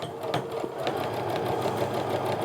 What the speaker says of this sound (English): I'm gonna sew a few stitches in just to get everything nice and secure